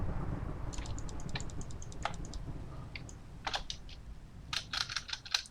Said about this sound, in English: I'm just tapping the shift key